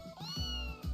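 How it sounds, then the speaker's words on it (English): A kitten stuck in a tree in a video game lets out a drawn-out, plaintive meow with rising and falling pitch over a low background hum, followed by the start of a second cry. "A kitten is stuck in the tree."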